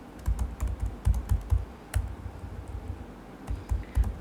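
Fingers type "free delivery" on a computer keyboard, a quick irregular run of close, soft key clacks with a brief pause midway, no voice present.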